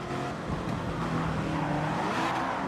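A TVR fitted with a 1000hp LT5 V8 engine swap in Gran Turismo 7 revs hard and continuously, its engine a loud, steady drone with rising and falling pitch, and no voices over it.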